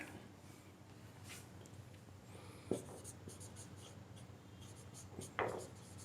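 Chalk scratches and taps across a classroom board in short strokes, with a couple of sharper clicks as the chalk strikes, quiet and close over faint room hiss.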